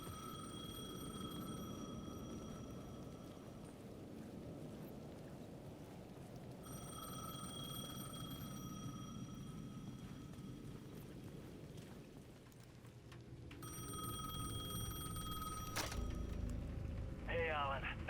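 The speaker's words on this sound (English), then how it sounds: "The payphone at the edge of the plaza was ringing again." A payphone rings at the edge of a plaza in the video game Alan Wake II, with repeated electronic bell bursts coming and going over a steady rain-like ambient wash, plus a sharper burst near the end.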